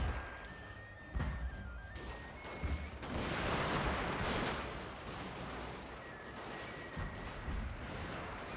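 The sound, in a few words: musket volley fired by kneeling troops in video game Shogun II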